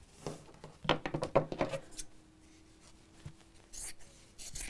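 Scissors cut folded fabric pieces for a drawstring box bag, giving a quick run of crisp snips close by, followed by quieter handling and faint rustling.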